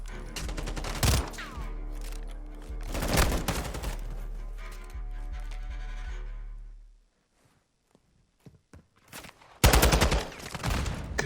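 Gunfire from a Call of Duty esports match between Toronto Ultra and Florida Mutineers: loud bursts of automatic fire and sharp single shots, including shots through walls, that cut out to near silence before another heavy volley.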